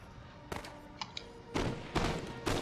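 Musket volleys in the Napoleonic battle game Total War: Napoleon, at Ligny 1815, come as sharp cracking bursts, first scattered single shots, then three heavier rolling volleys in quick succession over a low battlefield bed.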